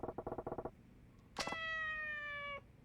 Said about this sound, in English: Listen to what the cats say. They're mewing at me.